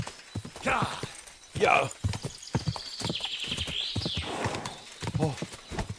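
Horse hooves clip-clopping in a video game, a steady rhythm of close hoof beats with a whinny midway and game sounds, while a voice speaks briefly.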